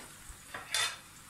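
Raisins dropped into whole spices frying in hot oil in a cooking pot, giving a brief soft sizzle and rustle that swells for a moment near the end of a quiet stretch.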